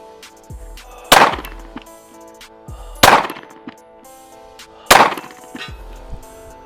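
Three loud gunshots from a handgun ring out about two seconds apart, each sharp crack followed by a short echoing tail, with faint clicks between shots.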